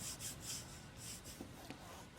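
A book spine being rubbed down by hand during repair, soft rhythmic scraping strokes with a few brief taps, close but faint, with no talk over them.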